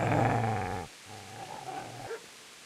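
A dog in the medieval game Kingdom Come: Deliverance gives a low, close growl that rumbles on for under a second, then breaks into softer grunting snarls and a short whimper.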